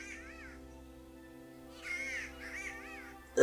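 Bird calls in the medieval video game Kingdom Come: Deliverance, where nightingales live: a few faint, warbling chirps over a low steady hum, growing somewhat louder toward the end.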